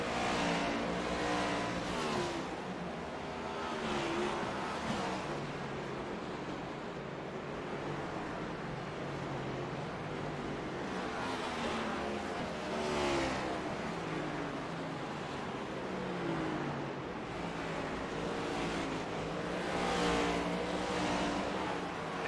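Race cars lap Martinsville Speedway in a racing sim, a steady buzzing engine drone that swells and fades in repeated passes as cars go by, with no talk.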